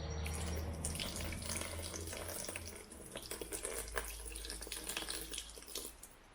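Water running steadily into a Ford Mk3 Cortina engine to flush out sludge, a continuous close splashing and gurgling flow, like a tap filling a sink, with no talk.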